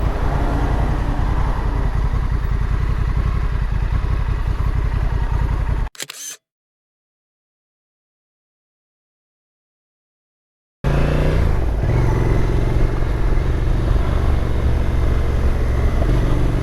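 Honda NT1100 sports tourer motorcycle on the move on a Lake District road, steady loud engine and wind rumble close to the rider, cut by a sudden dropout of several seconds before the riding noise resumes.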